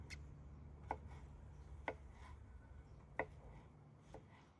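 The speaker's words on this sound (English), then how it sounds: "chop up the mango" A knife chopping mango into small pieces for a jerk shrimp dish, heard as a few faint, sparse taps about a second apart against a low background hum.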